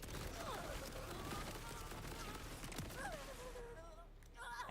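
Gunfire in the video game Borderlands 4: scattered, sharp bursts of shots crackle across the scene amid game effects and breathy vocal sounds, fading toward the end.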